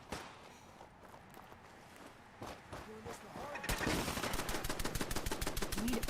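Gunfire in Fallout 4, a sharp shot early on, then sparse cracks and finally a rapid rattling burst of automatic fire, with someone talking quietly over it.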